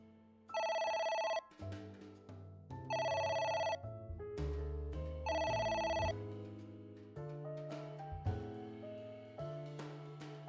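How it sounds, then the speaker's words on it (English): A telephone in the video game AI: The Somnium Files rings in loud electronic bursts, three repeating ring cycles, set against sustained game music. "I'm so sick of listening to a ringing phone, too."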